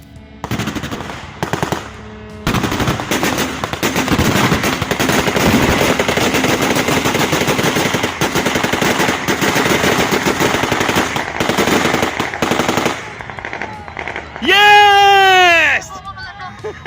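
ZU-23-2 anti-aircraft cannon firing bursts at a Shahed 136 drone, loud sustained rapid autocannon fire over nearly the whole stretch with brief gaps, then a shouting voice near the end.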